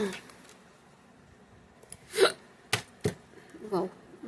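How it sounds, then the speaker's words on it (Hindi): A woman hiccups several times, sharp short jolts between quiet pauses, with a few soft breathy sounds around them. The hiccups are close, loud and alone, with no speech over them. "वाह, बड़ी हिचकी आ रही है"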